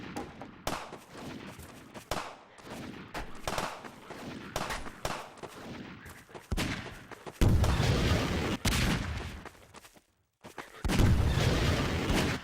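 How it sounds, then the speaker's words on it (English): Rapid bursts of gunfire in the video game Garry's Mod, dense crackling volleys and booming shots that swell louder midway, with a brief lull before another loud barrage. "They started shooting again."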